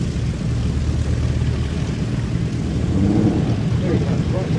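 A fixed-wing aircraft takes off from a hard runway, making a broad continuous roar that stays loud and steady throughout, rumbling at the low end with a faint rise near the middle.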